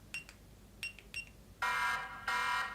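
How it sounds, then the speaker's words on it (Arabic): Keychain phone-finder button triggers a phone alert: a few short, bright beeps at first, then two loud sustained electronic tones close by, with no talking. "من اضغطها راح تليفوني يطلع صوت"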